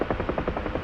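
A video-game helicopter carrying a slung cargo load thumps with rapid, regular rotor beats over a dense, loud engine drone, close and continuous.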